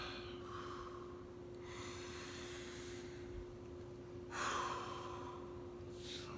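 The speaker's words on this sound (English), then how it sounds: "I like to take a couple deep breaths" Slow, deep breaths before a stretching routine, two long audible inhales and exhales, one near the start and a louder one later, faint and close over quiet room hum.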